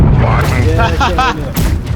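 Ship cannons fire in a naval battle game, a heavy boom rolling out near and loud with a rumbling tail, while someone talks over it.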